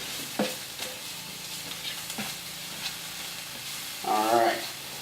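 Onions fry in oil in a pan for shrimp fried rice, a steady close sizzle with occasional stirring clicks and a brief louder hiss near the end.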